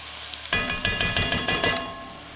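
Garlic for shrimp and grits hits a hot pan and bursts into a loud, steady sizzle, with a few rhythmic taps of stirring punctuating the frying.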